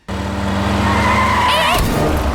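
A car skids hard toward a near collision, a loud close tire squeal and engine roar building over a couple of seconds with a sharp shriek as it brakes to a stop.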